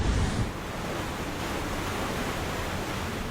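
Steady rushing ocean wash and wind on the open Pacific as a military convoy crosses, a broad continuous roar with a slightly stronger surge at the start.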